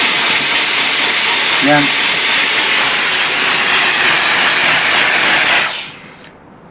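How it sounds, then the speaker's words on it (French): A steam cleaner blasts a continuous, loud hiss across a car body for several seconds before cutting off abruptly. A single short spoken word is heard partway through. "Un nettoyeur vapeur, c'est toujours très pratique."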